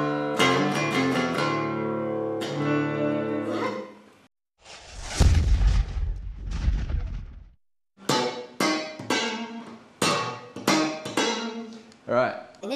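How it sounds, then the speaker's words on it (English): Guitar's low E string being tuned down to D: a string of close plucked low notes ringing and decaying one after another, broken midway by a few seconds of rough, noisy handling. "I'm going to show you how to tune your low E string down to the D note"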